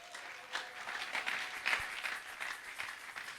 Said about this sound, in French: Acclamons pour la gloire de notre Dieu.